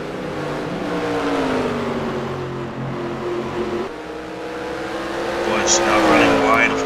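NASCAR stock cars race at Watkins Glen in the NASCAR Racing 2003 video game, with a loud, continuous engine drone whose pitch sweeps up and down as the cars accelerate and back off through the straightaway.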